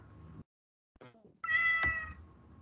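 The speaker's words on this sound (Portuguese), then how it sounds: "O meu celular tá miando aqui" A mobile phone ringtone made of cat meows sounds during a class presentation, playing as a couple of clear, close meow-like calls after a brief silence.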